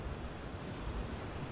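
Ocean waves wash in a continuous soft rushing surf, a low, even roar with gentle swells and no voices over it.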